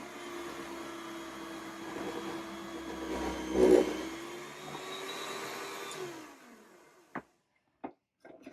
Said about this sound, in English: This machine is not slicing the meat as fast as the commercial one, but it does the job